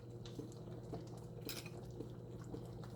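Soft clinks and taps of a bowl and utensils as pinto beans with neckbones are served, a few light scattered chinks over a low steady kitchen hum, quiet and close.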